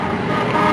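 A car horn honks in a short, continuous blare over road noise in an old television theater broadcast, close and fairly loud, with no talking over it.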